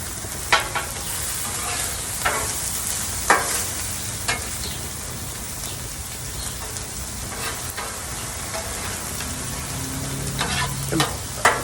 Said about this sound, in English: Get a little bit of a sear on the outside of these guys before we start mixing everybody together.